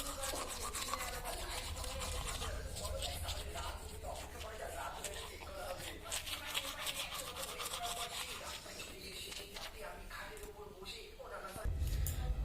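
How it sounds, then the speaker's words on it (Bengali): A toothbrush scrubs teeth in steady, close, rapid strokes, making a continuous gritty brushing noise that runs throughout at low level. "চলো ব্রাশ করে নিই, এখনো ব্রাশটা করে নিই"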